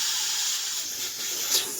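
Steam hissing hard from the release valve of a Red Chef pressure cooker holding cooked pork pata and mung beans, a loud continuous bright hiss at close range with a slight surge near the end.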